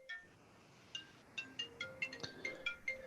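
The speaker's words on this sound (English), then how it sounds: "And I need to take this phone call real quick." A phone ringtone chirps in a quick repeating pattern of bright electronic tones, several rings in a row, fairly clear over a quiet room with no talking.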